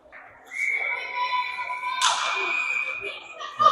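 A referee's whistle shrills at a youth U10 hockey game in an ice rink: a sustained high tone, then a sharper burst partway through, over arena murmur and nearby voices.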